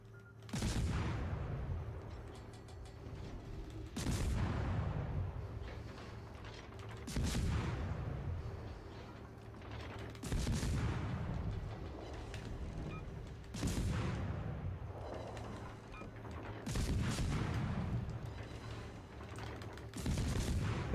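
Destroyer guns firing in World of Warships Legends from an Asian destroyer, heavy booming salvos repeating about every three seconds, each a loud blast with a rumbling tail, seven volleys in a row with no voices.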